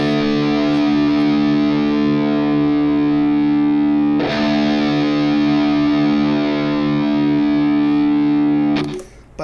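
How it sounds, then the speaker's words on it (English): A distorted electric guitar lets its open low E string, detuned down to D, ring loud and sustained, re-struck once midway and then cut off near the end, with no talking. "let me play my open low E string, which is now a D"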